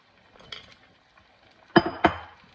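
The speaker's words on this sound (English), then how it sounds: "you're going to add the marinade that you used for the gizzards" Marinade poured into a pot of Portuguese-style chicken gizzards and stirred in, with soft liquid movement followed by two sharp metallic clinks of a utensil against the pot.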